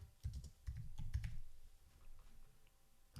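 Quick bursts of key clicks from a computer keyboard as text is edited, clustered in the first second and a half and then thinning to scattered soft taps, close and fairly quiet with no voices.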